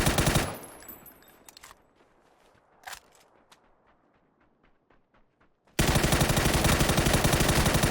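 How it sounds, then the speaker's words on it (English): Gunfire crackles in PUBG on console: a burst of automatic fire, scattered quieter shots, then a sudden sustained loud stream of shooting. "Oh, it's terrible shooting, but we got him."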